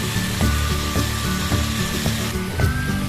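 Seasoned parape fish grills over low heat in a Cooker King ceramic-coated non-stick pan, with a loud, close, continuous sizzle and soft, regular knocks from the pan or utensil.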